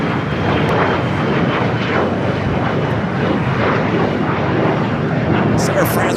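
An Air France jet takes off at LAX with a loud, continuous roar of engine noise that stays heavy and steady throughout, while people talk over it.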